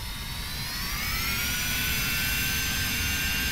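Steady, loud whining roar of an Embraer Phenom 300 business jet's engines while taxiing in Flight Simulator X, with a high turbine whine slowly rising in pitch over a constant rumble.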